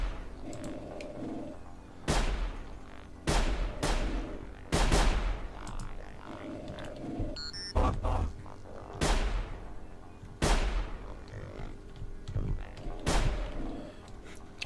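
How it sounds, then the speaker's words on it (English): Repeated gunfire from hunters shooting rabbits in the stealth survival game Sir, You Are Being Hunted: sharp, loud shots in irregular bursts every second or two, each followed by a decaying echo over a steady ambient bed. "They're shooting rabbits"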